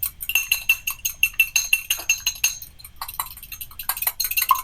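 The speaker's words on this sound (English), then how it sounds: "Go ahead and grab a fork and mix that up" Fork mixing egg wash in a bowl for sweet challah, a fast steady run of bright metallic clinks against the bowl, close and crisp with brief pauses.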